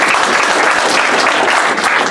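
Audience at a book launch during an authors' conference clapping steadily, a dense, continuous round of applause from a room full of people without pause.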